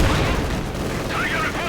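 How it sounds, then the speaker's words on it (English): Explosion from the rear lines of a Company of Heroes 2 match, a heavy booming blast at the start that rumbles and fades under ongoing battle noise and a commentator's voice. "Explosion in the rear."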